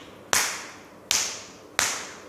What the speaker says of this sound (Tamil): இந்த பகுதியை வந்து தட்டி விட போகிறோம்.